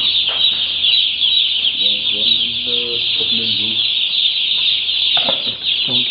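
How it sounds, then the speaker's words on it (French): A dense chorus of about a thousand chicks cheeps steadily inside a poultry house, shrill and constant and close, while people talk over it. "Combien de poussins ici? Il y a 1000."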